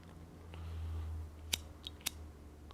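Scissors snip a bow string a few times at close range after a square knot is tied, giving three short, sharp cuts in quick succession over a low steady hum.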